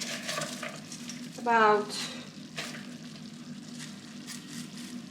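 Cabbage hits a hot pan with a brief loud sizzle, then frying continues softly under a steady kitchen hum while a spoon stirs and a voice speaks briefly.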